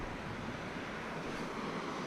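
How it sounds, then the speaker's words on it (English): Steady rushing of running creek water in Maryland, a continuous broadband wash with no breaks, fairly close and without any talking. "Let's try over by the running water here."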